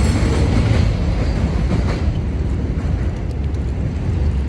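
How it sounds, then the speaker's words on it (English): A train rolls past nearby as a steady loud rumble of wheels and cars, fading slightly toward the end with no speech. "this train's passing by"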